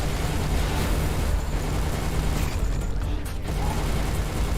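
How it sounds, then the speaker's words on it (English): A loud, dense explosion with crackling debris and rumble fills a space battle in the game Everspace 2. The blast stays broadband and continuous throughout, with no talking. "For a second, I thought that explosion was my ship."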